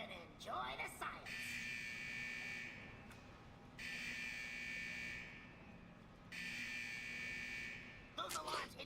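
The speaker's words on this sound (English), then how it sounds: "Those alarms indicate that we're encountering..." A synthetic alarm in a World of Warcraft Legion artifact scenario blares in long, even buzzing tones, three pulses separated by short gaps, with brief bursts of other game sounds at the start and end.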